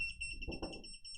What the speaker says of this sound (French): Donc on connecte, ça va se mettre à biper